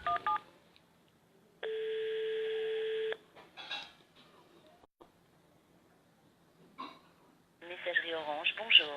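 Telephone line during a call attempt: a steady tone lasting about a second and a half, then faint dialing beeps and clicks, with speech near the end.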